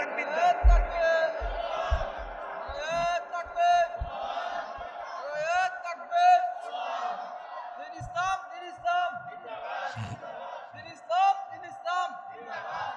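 A large crowd at an Islamic political gathering shouts takbir in repeated loud, rhythmic collective roars that rise and fall over several seconds, mixed with a leader's amplified voice.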